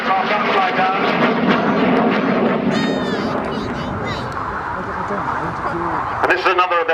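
An aircraft performing a wide, lazy barrel roll at the RAF Cosford Air Show drones steadily overhead, its engine noise shifting as it turns, under continuous commentary from a man.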